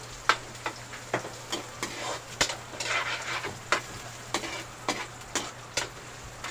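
Ground pork frying in a pan for pork adobo, a steady sizzle broken by regular sharp clinks of a utensil scraping and stirring, roughly one or two strikes per second, close and fairly loud.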